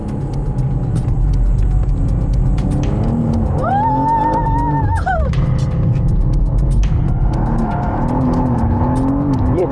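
A go-kart drifting on a go-kart track, its engine droning loudly and continuously near the microphone, with rising and falling revs, a tyre squeal in the middle and wind buffeting throughout.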